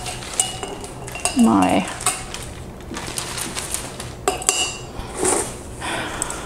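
Metal palette knife clinking and scraping against art supplies and a water container at a mixed media craft table, a few light irregular taps and rattles close by, with brief quiet speech.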